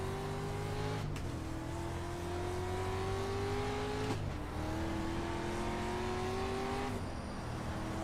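A dirt stock race car's engine in the iRacing sim game howls steadily, its pitch climbing through each gear and then dropping sharply at the shifts, about three times in a row.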